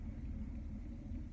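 A van drives along the road, its engine and tires making a steady low rumble heard from inside the cabin, constant and moderately quiet with no talking.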